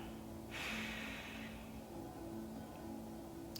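A slow exhale during a yoga breathing cycle, a single breathy rush that swells near the start and fades over about a second, with a steady low hum behind it.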